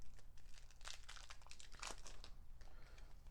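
Crinkling plastic wrap being torn from a Keyforge board game card deck, a few sharp crackly rips and rustles close up in a quiet room.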